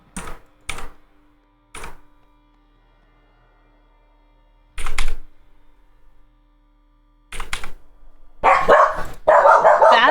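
Dogs in the video game Conan Exiles give a handful of sharp barks, a few spaced singly and a pair clustered together, followed by a louder stretch of yipping and growly noise near the end.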